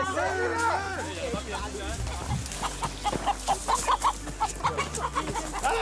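Two roosters released outdoors during a commando training ordeal, clucking and squawking nearby amid rustling and movement, with people talking over them.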